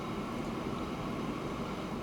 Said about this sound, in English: So a good length goods train there.